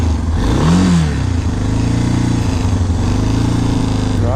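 A motorcycle engine labours on a high mountain pass ride in Ecuador, revving and droning loudly up close in a steady, straining hum.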